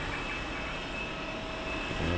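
Airplane engine noise in flight, a steady, dense broadband roar with a faint whine that stays even and unbroken throughout.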